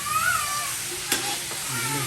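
Food fries in hot cooking oil in a home kitchen, giving a constant close sizzle broken by a brief scrape of stirring.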